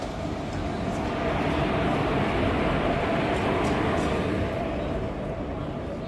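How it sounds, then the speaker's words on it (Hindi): A train pulls in at a station for the trip to Howrah, a steady loud rumble of rail cars running continuously throughout with no distinct pauses. "यहाँ भी आ गई हमारी ट्रेन"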